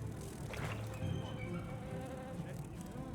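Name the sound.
giant bee buzzing in the video game Monster Hunter Wilds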